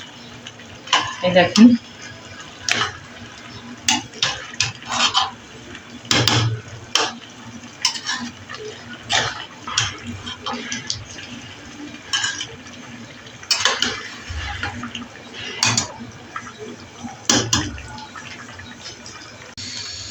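Khichuri with tomato and peas being sautéed in a pot, with repeated scraping and knocking of a utensil against the pot at an uneven rhythm, close by, while someone talks over it.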